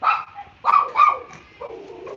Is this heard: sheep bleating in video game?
no